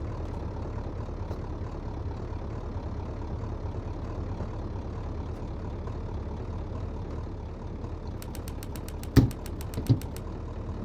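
Video-game car engine running steadily throughout in a garage setting, a low idling drone with a couple of sharp knocks or clicks near the end; no talking.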